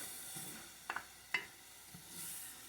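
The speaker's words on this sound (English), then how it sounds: "the onions are still, they're sauteing without oil" Onions sauteing without oil in a pan for red lentil dahl, a faint sizzle with a few sharp clinks and scrapes from a stirring utensil, quiet and close with no talk.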